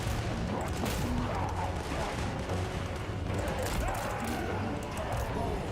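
Chaos Dwarf units firing in Warhammer 3, dense continuous volleys of gunfire and booms blended into a loud roaring battle din that runs unbroken throughout.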